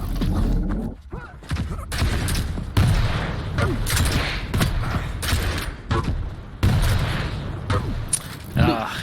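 Rocket fire and explosions in a Quake Champions tournament match, rapid booming launches and blasts in quick irregular succession amid constant arena gunfire, loud and close, with a commentator talking throughout.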